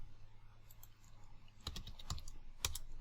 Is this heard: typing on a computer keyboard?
yes